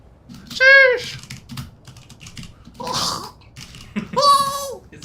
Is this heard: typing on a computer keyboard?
yes